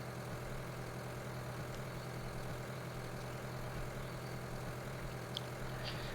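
A small tractor engine in a farm simulator game runs at a steady, unbroken drone, low and constant with no voices.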